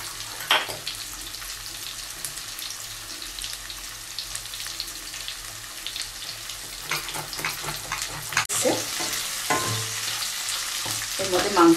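Chopped garlic sizzles in a pan as a chicken stew gets under way, a steady close frying hiss with stirring scrapes and a brief burst of running tap water near the end.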